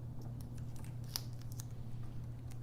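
Tape is pulled from a roll and cut to fix magnets onto a ruler. Quick crackly bursts and one sharp snap sound close by over a steady low hum, with no talking.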